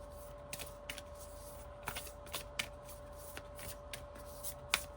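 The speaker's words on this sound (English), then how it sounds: "Now I shuffled these a lot, but there's only so many cards" A deck of star sign cards being shuffled, with repeated crisp riffling bursts at an uneven rhythm over a steady faint hum, close and fairly quiet, with no talking.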